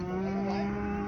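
Native cattle and buffalo at a busy rural livestock market in Erode, lowing steadily and close by, with a continuous low drone and clamor filling the background.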